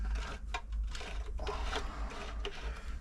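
Bone-dry, seized New Home 641 sewing machine turned slowly by hand gives stiff, irregular mechanical clunks and grinding rubs in short bursts over a low hum, close up.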